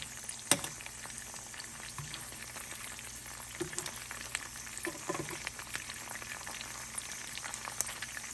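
Snipe frying in a pan of butter with garlic and rosemary, a steady close sizzle and bubbling with occasional spits and pops, no voices.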